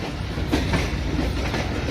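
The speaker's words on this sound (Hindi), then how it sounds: "ये कराची से आ रही है ट्रेन और ये प्लेटफॉर्म की तरफ मूव कर रही है" A train from Karachi rolls toward the platform at Lahore railway station with a steady, fairly loud rumble and repeated clacking of wheels over rail joints. No one talks.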